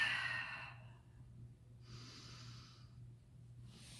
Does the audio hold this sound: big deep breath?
yes